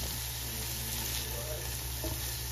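Bell peppers fry in a pan, giving a steady, close sizzle with faint bubbling and a light stir partway through.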